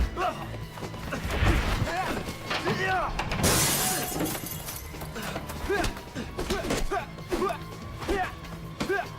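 Glass shatters in a fight scene, a bright crash about three and a half seconds in amid dense thuds, hits and clattering under music and voices throughout.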